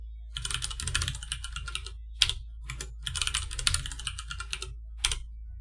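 Fast clicking keystrokes on a computer keyboard as a username and password are entered, in close, quick bursts separated by short pauses and a few sharper single key presses.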